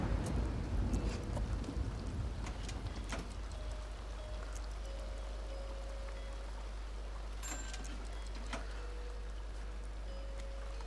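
Thunderstorm in the Sims 2 video game: rain patters steadily while a low thunder rumble rolls through the opening seconds and then fades under the continuous downpour, with faint chimes of game music drifting in later.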